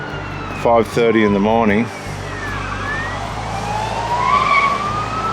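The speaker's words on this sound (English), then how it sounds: "There's the police racing to a situation" Wailing police car siren racing to an emergency in the early morning, rising and falling sweeps carrying on in the background, with a person talking over the first couple of seconds.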